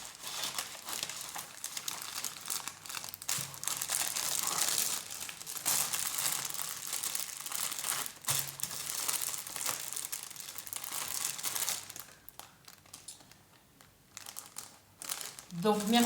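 Paper crumples and crinkles while being folded into a small envelope, a steady rustling that runs through most of the stretch, thins out briefly, then returns with a louder crackle at the end.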